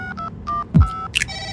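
Telephone keypad tones beep in a quick series of short dial presses, with a low thump partway through and a brief higher chirp near the end.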